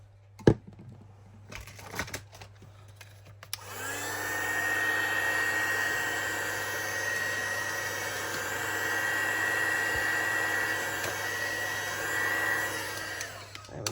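A heat tool or dryer runs to dry a vintage photo, giving a steady, loud whirring hum for about ten seconds that cuts off abruptly. A few small handling clicks come before it starts.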